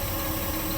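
A tractor-trailer engine running steadily during a brake check, a constant mid-pitched idle drone with even vibration and no talk.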